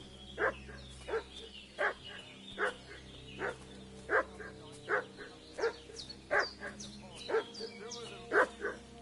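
A dog barks repeatedly in Kingdom Come Deliverance 2, about ten sharp, evenly spaced barks at moderate distance over a steady low ambient hum, with no talking.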